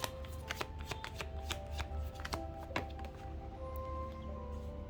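Tarot cards shuffled by hand in a steady run of crisp riffling flicks and soft slaps that continue for several seconds, close and clear, with no voice.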